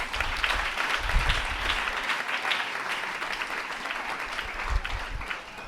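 A church congregation applauding, dense sustained clapping from many hands filling the room at a steady level, with faint crowd murmur underneath.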